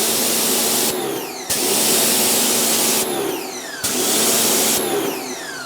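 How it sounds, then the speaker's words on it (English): A stubby compact pressure washer gun spraying water, a loud continuous hissing roar that cuts out briefly twice with a falling whine of the motor before surging back, close and steady with no talk. "I'll just turn the power washer off"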